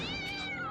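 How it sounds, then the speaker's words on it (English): A cat gives a single drawn-out, wavering meow, close and loud, filling the whole moment. "Oh, that is your cat."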